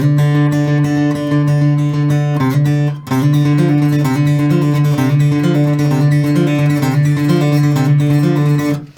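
An acoustic guitar plucks a D note over and over in a steady rhythmic pattern, loud and close, with a brief pause near the start.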